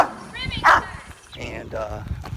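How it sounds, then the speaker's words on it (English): Several dogs bark and yip while chasing a man outdoors in a mobile home park, with sharp barks and whimpers mixed under an excited spoken voice. "yours truly was getting chased by some dogs, a bunch of dogs"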